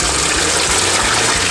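Water poured over freshly washed herb leaves in a steady, loud, continuous gush, close by and uninterrupted, with no voices.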